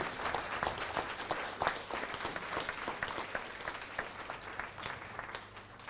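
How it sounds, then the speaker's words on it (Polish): Sustained applause from a conference audience in Olsztyn fills the room with a dense, steady patter of many hands clapping, with no voices over it. "bardzo serdecznie proszę o gorące brawa dla organizatorów dzisiejszej konferencji"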